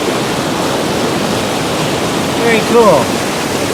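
Mountain river near Rampart Reservoir in Colorado, a loud, steady rush of flowing water filling the whole stretch, with someone briefly speaking over it near the end.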